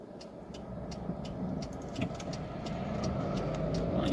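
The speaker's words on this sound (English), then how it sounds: "I am driving a car" A car drives steadily, its engine and road rumble forming a low continuous hum from inside the cabin, with faint rattles and clicks over the top.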